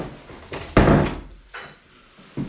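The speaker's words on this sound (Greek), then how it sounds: "Κλείστε την πόρτα" A door is shut in a room with a solid thump, closely followed by smaller knocks and rattles and a couple of lighter bumps a moment later. All of it is close, and no one speaks.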